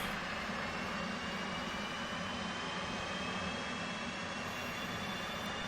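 Right engine of a military jet cranking up in the Digital Combat Simulator game, a steady broad whine and rumble with a faint rising tone, holding at an even level throughout.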